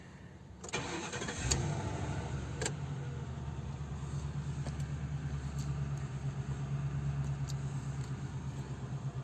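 A car engine cranks briefly, catches and settles into a steady mid-pitched idle, close and continuous after the start.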